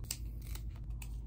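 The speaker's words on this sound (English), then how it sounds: "I'm just going to chop these up in between the nodes, of course, so that we can have more propagation." Scissors snip through houseplant stems between the nodes while taking propagation cuttings, giving three or four short, crisp cuts spread across the moment, close and fairly quiet, with no talking.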